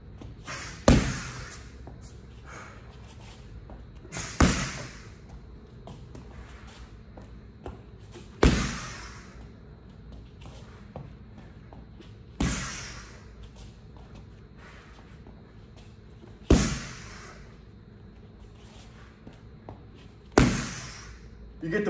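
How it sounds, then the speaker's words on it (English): Single punches land on a punching bag during peekaboo-style boxing training, six sharp thumps spaced a few seconds apart, close and loud, with shuffling between hits. "I'm just gonna randomly hit the bag for 30 seconds"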